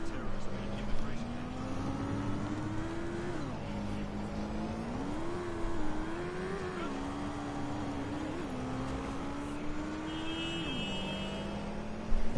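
A car driving through London in the game Watch Dogs: Legion, its engine note rising and falling through gear changes over a steady road rumble, with a few bumps and a short tonal chirp late on.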